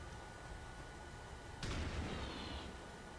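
Gunfire in the XCOM 2 video game: a single sudden shot bursts out midway and trails off with a short ringing decay over steady background game noise, with no talk.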